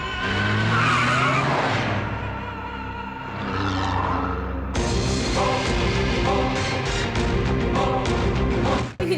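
Car driving off with skidding, squealing tires in a Hindi-dubbed South Indian action film, a loud continuous engine and tire roar under a dense soundtrack mix, rising sharply about halfway through.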